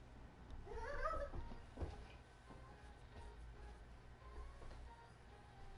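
A pet cat meows faintly near the start, a short rising-and-falling call over a low steady hum, followed by quieter rustling and soft knocks.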